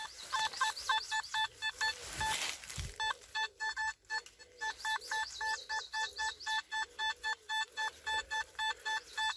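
Nokta Makro Simplex metal detector giving repeated warbling beeps while sweeping a park, a steady rhythm of short tones with a brief rustle partway through, no talking.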